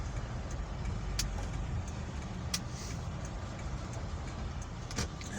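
A car drives along with a low, rumbling road and engine drone that stays steady throughout, broken by a few faint clicks and rattles inside the cabin.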